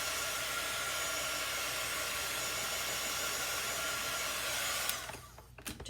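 A hair dryer blows on chalk paste on a craft project with a steady, close, broadband whooshing roar, then switches off near the end, leaving brief quiet handling noise.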